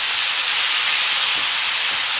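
Beef patty filling begins cooking in a pan, giving off a loud, steady, hissing sizzle that stays even throughout with no talking.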